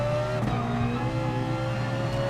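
Ferrari 458 accelerating around Bathurst in GT Sport, a loud steady high-revving engine note holding on without a break for the whole stretch, close and alone.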